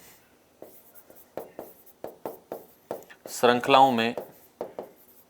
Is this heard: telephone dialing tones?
no